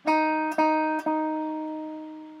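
A single clean guitar note at the fourth fret of the B string, picked three times in succession, each ringing clearly and decaying slowly after the last pluck.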